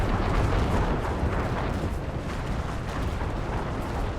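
Grenade explosions in the Empire strategy game rumble as a dense, continuous roar of overlapping blasts and booms, loud and close throughout with no pauses and no voice.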